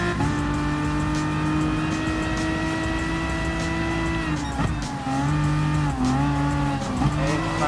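A Ferrari 458 GT3 race car engine in Gran Turismo Sport drones steadily at high revs, with a brief dip in pitch near the middle as it shifts or lifts, then climbs again, loud and continuous throughout.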